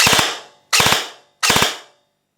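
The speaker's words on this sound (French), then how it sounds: "ça va tirer 3 fois." A G&G ARP9 airsoft gun fires three sharp, loud, close bursts, each a quick cluster of snappy mechanical shots with a short ringing tail, spaced evenly with brief silences between them.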